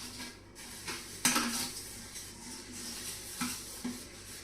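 Dishes, pots and pans are washed in a quick rush: metal clinks and clatter, cutlery knocks and the scrape of utensils over a low background hiss.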